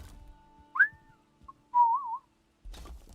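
Someone whistles a short rising note and then a longer wavering tune, with quiet gaps and a soft thump at the end, close and clear with no talking.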